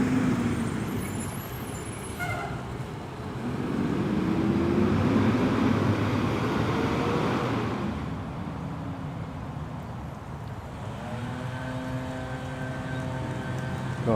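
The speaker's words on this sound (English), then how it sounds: "Allow this bus to pass by." A city bus passing close by, its engine rumble swelling to a loud peak, fading away, then a brief whining tone as it pulls off, amid steady traffic noise with no talking.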